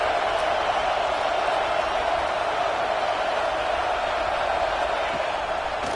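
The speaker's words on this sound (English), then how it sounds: "Here comes the noise, backing this defense on 3rd down." Steady roar of a stadium crowd during a third-down play in the college football video game CFB26, a dense wall of cheering noise that holds evenly loud throughout with no break.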